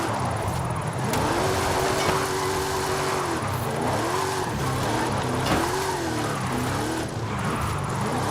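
Car drifting in Forza Horizon 5, played on a steering wheel: a loud, continuous engine drone with wavering pitch as it revs and slides, plus tire noise, steady for the whole stretch with no talk.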